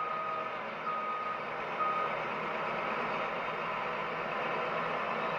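Truck creeping along at about two miles per hour while bagging grain, its engine droning steadily with a steady reversing-style beep tone over it.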